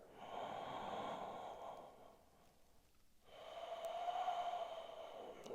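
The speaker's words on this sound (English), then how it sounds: "Big round of breath." A deep breath is taken while holding a yoga bridge pose in a hamstring-focused flow, a long audible inhale, a brief pause, then a slow airy exhale, close and fairly quiet, with no talking.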